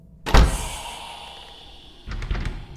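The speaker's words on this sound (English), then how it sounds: "Who shut the door?" A hospital door slammed shut in The Hospital horror game, a loud close heavy thud with a lingering echo, followed a moment later by a softer rattling bump.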